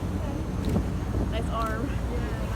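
A boat motors across open water toward an island dock, its engine rumble steady under rushing wind buffeting the microphone, with faint voices and a brief whistle-like tone near the end.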